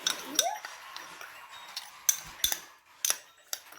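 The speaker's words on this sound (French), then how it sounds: "je mélange bien et je vais aller frotter mes dents" Whitening paste being mixed, then teeth being brushed: a series of small clicks and taps against a quiet background, with a few sharper ticks spread across the moment and no talking.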